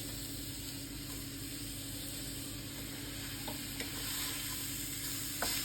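Steady sizzling and stirring of food in a hot cooking pan as pieces are mixed in, a continuous close hiss with faint utensil scrapes and no talking.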